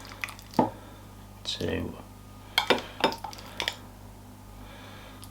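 Mince fruit and suet mix spooned into a bowl, a few short clinks and soft wet dollops spaced apart, close, while someone talks briefly between them.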